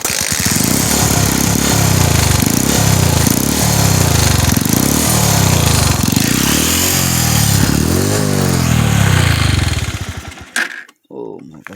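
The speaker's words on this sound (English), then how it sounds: "I want to start the bike off fast before we go" A motorcycle engine is started and revved hard, its loud rough roar rising and falling in repeated throttle pulses before cutting off abruptly near the end.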